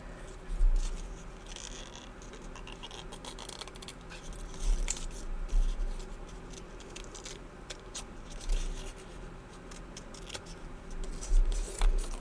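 Scissors fussy cutting paper for a journal, with repeated soft snips and crisp paper rustling at close range, irregular and steady throughout.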